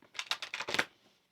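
Tarot cards are shuffled by hand, a quick run of about five crisp riffling bursts up close, ending in quiet.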